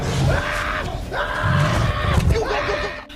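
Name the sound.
man screaming while running away, from film The Interview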